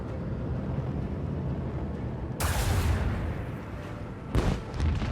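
Starship macro cannons fire in Warhammer 40,000: Rogue Trader with two heavy booming blasts over a constant low rumbling drone of engine and space ambience, the second blast a little sharper and followed by rolling echoes.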